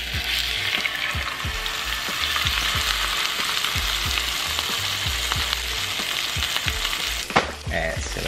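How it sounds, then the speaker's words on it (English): Salmon frying in avocado oil gives a loud, continuous sizzle throughout, with a soft rhythmic tapping underneath and a brief clatter near the end, and nobody talking. "Alright, so while the salmon's cooking"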